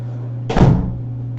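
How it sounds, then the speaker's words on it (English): A door closes with a single firm thump against a steady background hum, shutting out a noisy Roomba robot vacuum. "It's really noisy, so I had to close the door."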